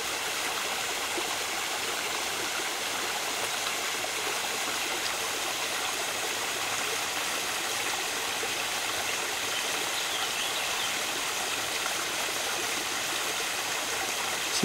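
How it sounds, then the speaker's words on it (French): Mountain stream water rushes steadily downhill, a dense, constant roar of flowing water, close and even throughout with no voices. "C'est de l'eau qui descend directement de la montagne"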